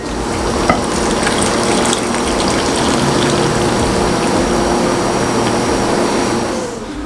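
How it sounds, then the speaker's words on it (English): Hot water pouring off boiled macaroni through a strainer into a sink, a steady loud rushing splash that continues evenly for several seconds before tapering at the end. "We just strained off the mac and cheese"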